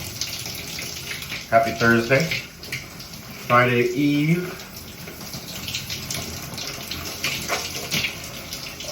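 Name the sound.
shower water running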